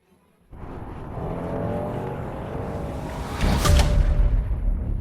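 A car starts and drives off nearby, its engine rising into a steady broadband rumble that swells louder toward the end, with no talk.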